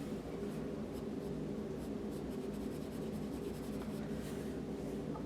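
A pencil sketches lines on paper in a quiet, steady, close scratching that continues with light rhythmic strokes and soft rubbing.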